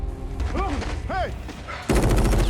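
A quick burst of submachine-gun fire from MP guns in a horror film, starting abruptly and rattling loudly at the end, after a stretch of whistling, sweeping effects and a brief voice.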